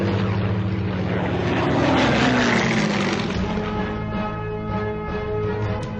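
A Soviet piston-engine fighter aircraft drones loud and steady, its propeller roar holding strong throughout with a slowly shifting pitch as it passes.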